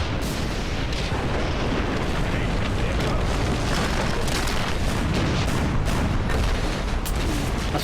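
Dynamite blasts in the Valiant Hearts video game tear through an underground mine, making a long, loud, continuous roar of explosion and rumbling debris with no pause.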